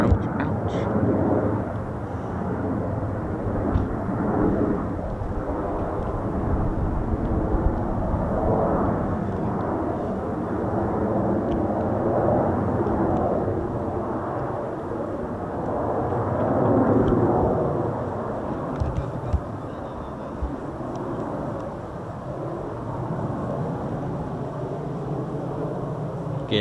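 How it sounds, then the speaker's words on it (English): An F-35 Lightning stealth jet coming in to land at RAF Mildenhall with gear down, a steady, broad engine roar that rises and falls slightly over nearly half a minute, with no voices. "Gear down, probably going in, landing at Mildenhall, of course."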